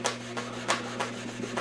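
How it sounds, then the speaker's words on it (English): Hand rubbing old finish and paint off the wooden cabinet of a Sparton Jr 400 radio during restoration, close, quiet rasping strokes repeating in a steady back-and-forth rhythm about three times a second. "A little bit more rubbing and it'll be completely gone"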